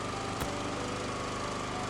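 Two drills run together in the video game Blossom, giving a steady mechanical engine-like drone that stays level throughout, with one brief burst of noise near the start.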